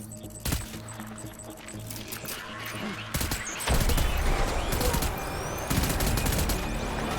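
Gunfire in the Death Stranding game during a firefight: sharp, rapid bursts of automatic shots and scattered single cracks, loud and close, growing denser into sustained fusillades, with someone talking briefly between them.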